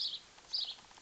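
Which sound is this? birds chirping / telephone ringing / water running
birds chirping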